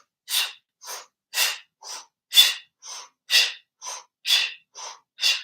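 Rhythmic yoga breathing through a rounded mouth during a vinyasa flow, eleven sharp, breathy inhale and exhale bursts in a steady even pulse, close and moderately loud with short silences between them.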